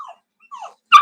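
Teddy, a dog, gives a few short yelps and finishes with one sharp, loud bark close by in an otherwise quiet room.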